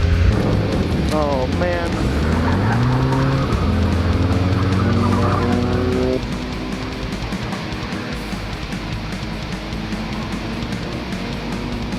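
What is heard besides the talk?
race car engine revving and kicking into gear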